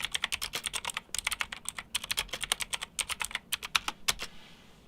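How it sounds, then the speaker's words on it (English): Someone types quickly on a clicky GAMDIAS Hermes E1 gaming keyboard, producing sharp, crisp keystrokes in fast irregular bursts with brief pauses, close and distinct. "The keyboard, again, like I said, it's very comfortable to use. It's very nice and clicky"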